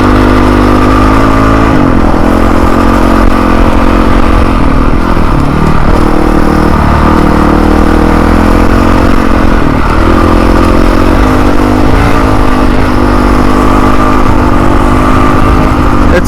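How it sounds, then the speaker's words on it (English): A Honda dirt bike engine runs loud and steady close by for the whole stretch, with the throttle rising and falling in small revs over a constant rumble and no voices. "This thing's a real dirt bike."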